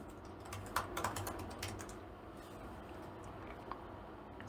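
Quiet, quick typing on the low-travel keyboard of a 2016 MacBook Pro in a typing test, soft clustered key taps at close range, with no one speaking.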